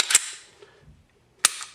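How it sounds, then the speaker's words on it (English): Two sharp, dry mechanical clicks from a Smith & Wesson SW40VE Sigma pistol being dry fired after a trigger job, spaced about a second apart, close and alone in a quiet room. "pull your trigger and dry fire it"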